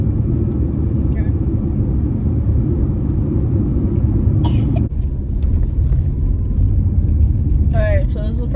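Steady low road rumble of a car being driven, a continuous close engine and tire drone inside the cabin with a few faint clicks and rustles near the end.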